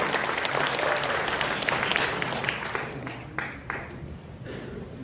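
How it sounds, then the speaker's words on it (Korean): Audience applause at a book concert talk show, a dense, steady wash of clapping from a crowd that holds loud through the moment and tapers slightly toward the end. "여러분 박수 쳐주십시오"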